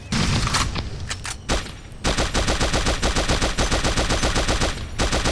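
Rapid automatic gunfire from an assault machine gun in the mobile shooter Pixel Gun 3D, with scattered shots at first, then a long steady burst of loud, evenly spaced rounds.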